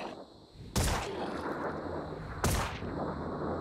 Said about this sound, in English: look at the scatter on the shotgun